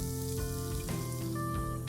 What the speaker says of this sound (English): Once the oil is nice and hot, I'm going to add one small onion finely chopped